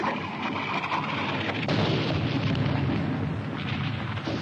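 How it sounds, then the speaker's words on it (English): Artillery fire in a 1951 war film battle scene, a continuous loud roar of booming blasts and rumbling impacts with no talk. "Where's that Jap artillery?"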